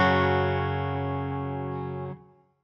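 Electric guitar run through a pedalboard effect that drops it to E-flat tuning, a sustained distorted chord ringing loud and steady for about two seconds before being cut off, with a short decaying tail.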